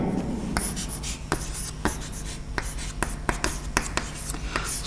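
Chalk or a marker taps and scrapes across a board during a mathematics lecture, a series of close, irregular sharp strokes and clicks with no talk.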